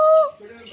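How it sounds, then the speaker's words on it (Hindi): A small quail calls in a park in Goa, one clear whistled note at close range followed by fainter chirps and coos, with a voice faintly underneath. "ये बटेर हैं बटेर"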